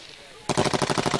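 Rapid automatic gunfire during a patrol in Afghanistan's Zhari district, a sudden loud burst of evenly spaced shots that breaks in after a quieter moment and keeps rattling.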